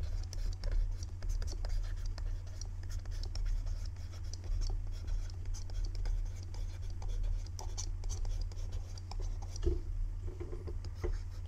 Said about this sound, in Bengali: আমরা প্রথমে মেইন সূত্রটা লিখে নিচ্ছি।